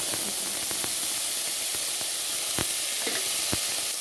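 Thick banana pieces frying in hot oil seasoned with panch phoron in a pan, giving a steady loud sizzle with occasional crackles and pops, no voices.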